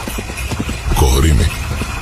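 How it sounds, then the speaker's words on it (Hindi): A galloping horse's hooves clip-clop in a quick rhythm and swell louder as it closes in, heard alongside a person talking. "धीमे धीमे धीमे करीब आने लगी और घोड़े के दौड़ने की रफ्तार"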